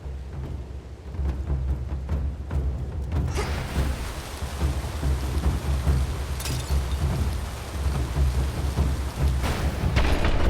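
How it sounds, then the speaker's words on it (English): A thunderstorm in the video game Hades II, brought on by Typhon: steady heavy rain hiss with low rumbling thunder swelling in after a few seconds, dense and continuous throughout, with a sharp crack partway through. "Typhon brought this storm upon the gods."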